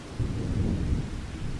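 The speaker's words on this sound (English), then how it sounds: "obviously I can't really do any work whilst it's chucking down the rain" Heavy rain pours steadily in Farming Simulator 25, with deep thunder rumbling throughout, loud and close, no voices.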